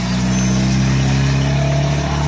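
Several motor vehicles idle and pull away together from a parking lot at a South Carolina riders' festival, a steady loud engine drone with low humming tones throughout and no talk.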